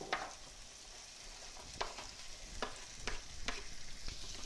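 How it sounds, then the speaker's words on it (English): Potatoes frying in melted butter in a pan, a steady soft sizzle broken by several sharp stirring clicks and scrapes, close and moderately quiet, with no talking. "Once we see that butter is nice and melted, we're going to throw on in our potatoes."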